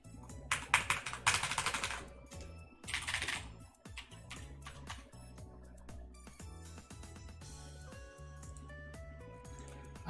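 Clicky typing on a computer keyboard fitted with blue switches at an Elsword gaming tournament, with dense bursts of rapid clacks in the first few seconds over steady background music, then fading into the music.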